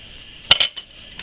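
A knife slicing through a homemade English muffin gives a couple of quick, close scraping clinks, one louder burst and then a few fainter ticks, with no talk.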